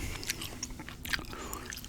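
Gum chewing close to a microphone in a soft-spoken ASMR setting, with wet, sticky mouth clicks and smacks repeating in a quick irregular rhythm, quiet and intimate, no talking.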